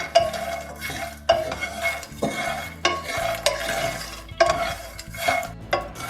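Roasted makhana (fox nuts) being tossed and stirred with a masala mixture of chili powder and salt in a pan, giving repeated scraping and clattering strokes with a few sharper knocks, close and steady, no talking.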